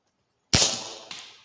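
A single sharp crack from a tuned Gamo Urban air rifle firing at a camping fuel can far downrange, followed a half second later by a fainter, short metallic impact.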